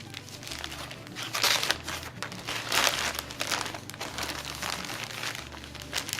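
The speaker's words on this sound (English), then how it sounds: "Make sure to recycle your Ziploc bag, write tortilla bag on here" A gallon-size plastic Ziploc bag used for storing tortillas, handled close by: continuous crinkling and rustling of plastic in uneven surges, fairly loud, with a low steady hum underneath and no talking.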